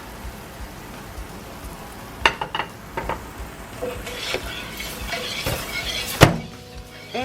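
Steak fries in peanut oil with a little butter in a pan, a soft steady crackle with scattered sharper pops and clinks, close up, without speech.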